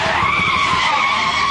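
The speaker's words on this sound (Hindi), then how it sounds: "उसका स्कूटर सड़क पर तेल गिरा होने की वजह से स्लिप हो जाता है।" A scooter skids on oil spilled across a road, giving a loud, continuous tire screech with a low rumble underneath that lasts the whole short moment.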